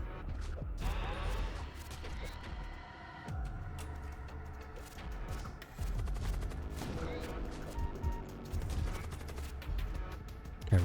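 Rapid bursts of gunfire in the video game Void War, with dense overlapping shots and crashes running continuously throughout, loud and close.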